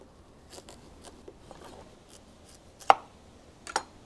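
A sharp knife cuts through a seedless watermelon, with soft crunching strokes and two sharper cracking snaps near the end, close and quiet.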